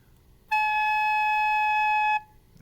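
A recorder sounds a single sustained A note, clear and steady for about a second and a half, alone in a quiet room.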